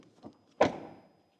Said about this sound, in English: I would wish that the rear door closing sound is like in the front.